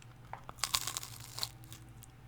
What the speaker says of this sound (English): You hear that crunch? That crunch is amazing.